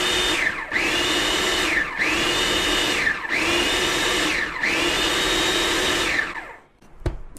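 A blender pulses tomato pasta sauce in a kitchen, its motor whining up and down in five loud, even bursts of about a second each, then stopping, followed by a sharp click.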